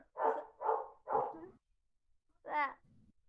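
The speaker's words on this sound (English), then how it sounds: "the dog starts barking" Indoors, a dog barks three times in quick succession, then once more after a short pause, followed by a faint whimper; the barks are close and fairly loud against a quiet background.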